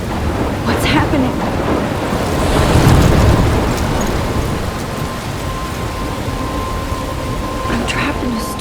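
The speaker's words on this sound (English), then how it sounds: "I'm trapped in a storm?" A storm lashes the coast near a lighthouse in the game Life is Strange, with heavy rain, gusting wind and crashing waves in a dense continuous roar, swelling briefly near the middle.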